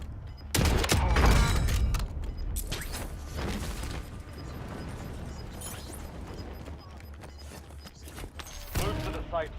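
Gunfire in Call of Duty Warzone on the Verdansk map, bursts of shots and sharp impacts with mechanical clatter, loud and close, with voices talking in places.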